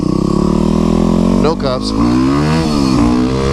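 A loud streetbike engine drones steadily throughout, pitch sweeping up and down as the rider revs, with a voice speaking briefly over it midway.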